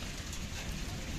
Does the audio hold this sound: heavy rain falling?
yes